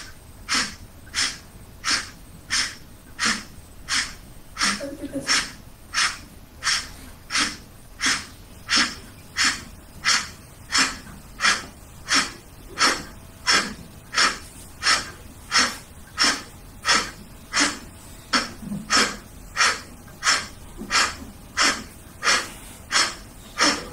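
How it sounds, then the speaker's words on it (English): Rhythmic, forceful nasal exhalations during a yoga kriya (kapalbhati-style pranayama), about one sharp puff per second sustained at a steady pace, close and clear with no talking. "We are trying to exhale out all carbon, toxins and unnecessary gases from this exhalation."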